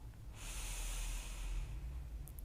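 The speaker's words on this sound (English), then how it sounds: "Big breath out. Another big inhale. Big breath out. One more breath in." A deep exhale through the nose during a morning stretch class, a soft breathy rush that swells and fades close to the mic, quiet against a low background hum.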